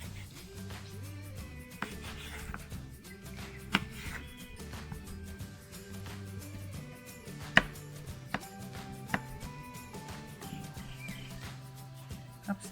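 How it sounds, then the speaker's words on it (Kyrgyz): Cabbage being chopped with a knife for a salad: a steady run of crisp, close knocks against a cutting board, some sharper than others, with soft music playing beneath. "Капустаны да майдалап турайбыз."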